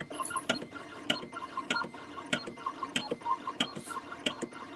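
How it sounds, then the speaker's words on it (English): A rhinestone template cutting machine running and cutting, giving a loose rhythm of short sharp mechanical taps and clicks over a low motor whir, close by, with no talking. "You see the machine cutting?"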